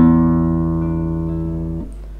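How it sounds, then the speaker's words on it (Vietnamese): A sustained low E note on the sixth string of a guitar, heard as a single steady ringing tone with rich harmonics that holds for nearly two seconds before being damped, played alone as a tuning reference. "Đây là nốt mi của dây số 6,"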